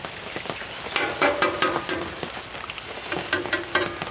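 Eggs sizzle and spatter on a hot Blackstone flat-top griddle, a dense crackling hiss with scraping spatula strokes while a person talks throughout.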